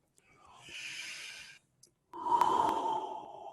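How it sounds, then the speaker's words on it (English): Slow belly breathing during a mindfulness exercise: a long, soft airy breath, a short pause, then a louder, fuller breath, heard close with no talking. "Just keep doing that belly breathing."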